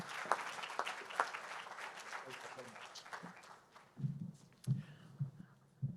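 Audience applause welcoming a guest lecturer at an evening law lecture, a steady patter of clapping that thins out midway, followed by a few louder scattered claps near the end.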